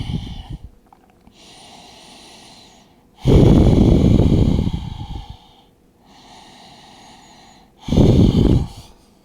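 Deep, audible breaths during a front and middle splits stretching routine, close to the ear: long airy inhales and exhales, with two louder, rougher bursts of exhaled breath standing out from quieter steady breathing.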